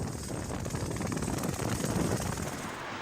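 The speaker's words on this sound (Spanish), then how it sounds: "movilizar el helicóptero de rescate y los equipos de emergencias" Rescue helicopter in snowy Navarra, a dense, steady rotor roar with rapid thumping pulses, loud and close throughout.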